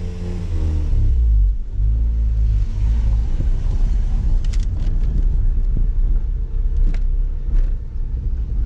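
A Mazda RX8 S1 with a lean condition rolls down a cul-de-sac, its engine a steady low rumble close by with a brief rise in revs midway, and no voices over it.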